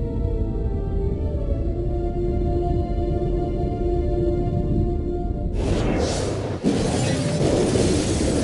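Film sound effects of debris, glass and fire from an airliner emergency landing: a low sustained rumble gives way to a sudden loud shattering burst, then dense crackling debris that stays loud to the end.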